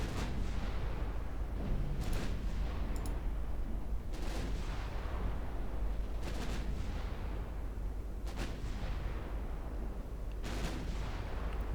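Battleship main guns fire in a naval battle game set around 1910, heavy booming salvos landing roughly every two seconds in a steady rhythm, loud and close with no talk.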